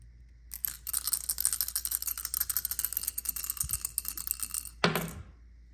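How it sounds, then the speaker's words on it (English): Dice rattle rapidly in a shaker or cup for several seconds, a dense clicking clatter, then a sharp final knock as they land, close and alone. "let's roll a dice"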